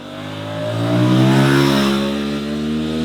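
An Aprilia RS 457 motorcycle engine revs up and holds a steady, loud, close drone that swells and eases slightly, with no talk over it.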